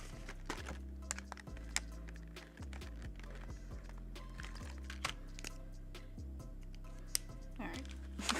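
Computer mouse and keyboard clicks tap in quick irregular bursts while a planner is set up, close and crisp over a low steady musical bed.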